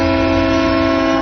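A train whistle gives one steady, loud, sustained tonal blast lasting the whole moment, rich in harmonics and unbroken.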